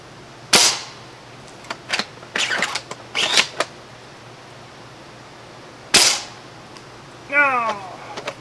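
Rifle shots from an M0053-1 and a 31K-A9 crack sharply at irregular intervals, a handful of loud reports with mechanical clicks and clatter between them. A short vocal exclamation comes near the end.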